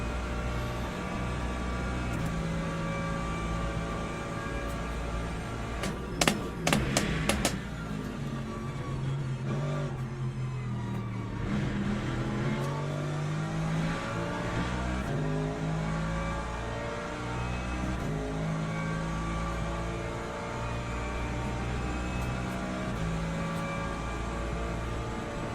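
A race car engine in Le Mans Ultimate, a continuous loud drone with a brief burst of sharp rising-and-falling revs partway through as gears drop mid-corner, then settling back to a steady roar, without speech.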